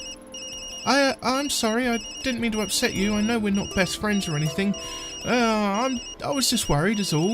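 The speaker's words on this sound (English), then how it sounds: "Sorry, Yumi. That's my phone." A phone rings during a Tokyo Dark scene: a faint, high electronic ringtone tone persists beneath a character's emotional spoken dialogue and the game's background audio.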